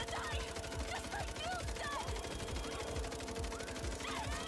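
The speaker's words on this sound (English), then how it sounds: "these guys don't stand a chance against the infinite ammo MP7" An infinite-ammo MP7 fires in MindsEye in rapid, sustained automatic bursts under game effects and whooshing sounds. A voice talks over the shooting.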